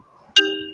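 A phone chimes once with a bright, ringing notification tone that sustains and fades, loud and close, after a faint murmur of background voices.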